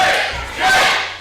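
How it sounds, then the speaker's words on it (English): A loud wrestling crowd roars at a ProSouth Wrestling event, a dense swell of cheering voices that dips briefly and then surges again. "The crowd getting behind Jake."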